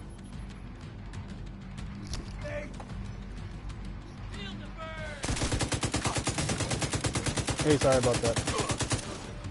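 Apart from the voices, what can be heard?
gunfire in The Division video game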